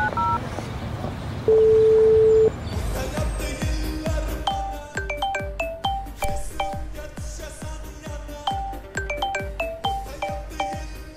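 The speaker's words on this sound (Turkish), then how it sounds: "Mana yana bir do'stimga telefon qilaman." Telephone dialing a friend's number, a long single tone followed by a rapid run of short beeping key tones, close and clear, with no talk over it.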